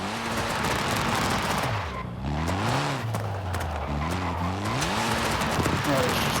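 Mitsubishi Lancer Evo in Forza Horizon 5 drives with a loud, steady engine drone that rises and falls in pitch as it revs and shifts, with tire noise underneath throughout.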